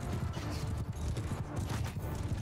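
Horses galloping in Mount & Blade II: Bannerlord during a battle, with a dense, continuous rapid drumming of hooves, loud and close, mixed with clattering battle noise throughout.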